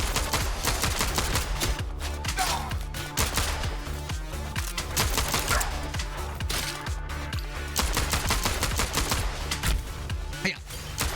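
Gunfire from the video game CyberCorp rattles in rapid, dense bursts of shots across the whole stretch, loud and busy, mixed with game effects and sound.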